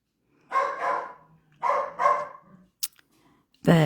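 Bessie, a working dog, barks outdoors on a brisk, cool, windy day: two pairs of loud, close woofs with short pauses between them, followed by a brief sharp knock and another bark starting at the end.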